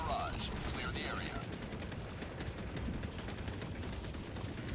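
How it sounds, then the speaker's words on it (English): An orbital barrage fires in a video game, a steady stream of rapid, evenly spaced blasts that continues without a break, with a voice faintly present underneath. "Firing orbital barrage. Clear the area."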